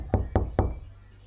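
Three sharp, evenly spaced knocks on a door in a household drama scene, close and solid, followed by quiet with no voices.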